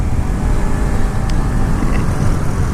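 Steady, loud roar of a Yamaha R3 motorcycle cruising on the highway, dominated by broadband wind rush with a constant engine drone and no pauses.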